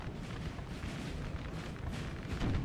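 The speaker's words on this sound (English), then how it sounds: "the idea behind putting the artillery here was to shoot at the Polska cavalry" Napoleon Total War artillery cannons firing in a battle, a dense continuous rumble of booming shots rolling together, loud and unbroken, with no voices.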